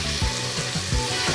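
Spices stirred into sizzling dry urad dal in a pan on medium gas, with a steady loud frying hiss and several soft scraping stirs at irregular intervals.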